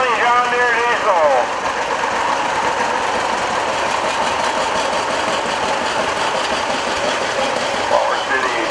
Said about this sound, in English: 720 John Deere diesel.